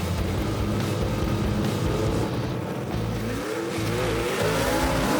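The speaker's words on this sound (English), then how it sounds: "A lot of spin right there for Eddie Willis on the starting line." Super stock drag car spinning its tires at the starting line of a drag strip, a loud, dense engine roar with wheelspin howl holding steady throughout, close and unbroken.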